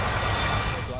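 LOT Polish Airlines Flight 16, a passenger jet carrying 231 people, descends over a city toward an emergency landing. A loud, steady engine roar fills the whole moment with constant broadband rumble, and a voice is mixed in.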